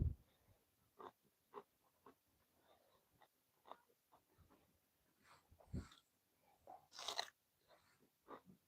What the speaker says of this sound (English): I don't want to sit there and munch on a pickle